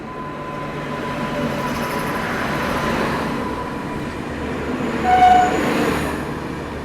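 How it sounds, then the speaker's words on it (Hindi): A goods train rolls slowly past, with a continuous rail rumble and clatter, a faint high wheel squeal, and a brief tonal horn-like whine near the end. "वो शायद से गुड्स ट्रेन होगी, बट यहाँ ओवरटेक जो है वो देखने को मिलने वाला है अपने को।"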